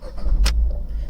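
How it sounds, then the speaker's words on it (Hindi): A Tata Tiago car engine starting, with a short sharp crank burst followed by a steady low idle rumble close by, and no talk. "मैं एक बार इग्निशन को ऑन करता हूँ, आई मीन इंजन को ऑन करता हूँ"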